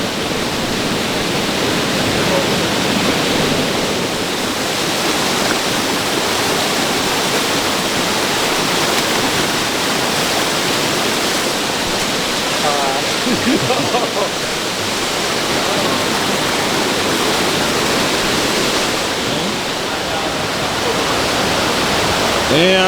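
Mayfield Falls in Jamaica pours in a steady, loud rushing roar of falling water, continuous and close, with faint voices of people nearby mixed into the noise.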